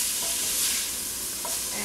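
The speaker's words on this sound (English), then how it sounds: "my onions are cooking" Onions sizzle steadily in a pan as a Zuppa Toscana soup is started, a close, continuous bright frying hiss with faint stirring scrapes and no voices.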